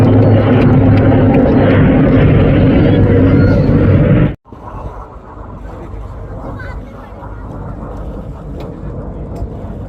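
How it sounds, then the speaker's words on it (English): An Indian Air Force military aircraft roars loudly overhead at Pokhran, a dense engine rumble that cuts off abruptly midway, leaving a quieter distant hum and faint background noise. "The aircraft has gone around"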